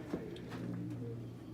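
Racing pigeons coo low and steadily in their loft, with a soft rolling hum up close and faint rustling, and no talk.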